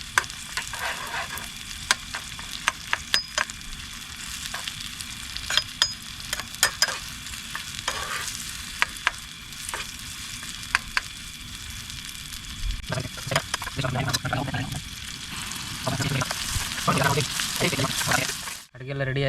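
Tomato gojju sizzles in a generous amount of oil over a camp stove on a mountain, a steady close frying hiss with scattered pops and stirring scrapes, and a voice talking during the later part.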